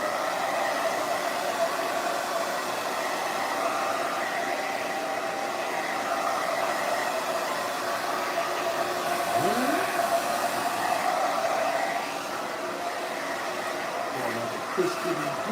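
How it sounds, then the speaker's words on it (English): Ash is blown off with a strong blast of air, a steady, loud rushing hiss that runs unbroken for the whole stretch and dips slightly near the end. "I gotta blow off some of that ash"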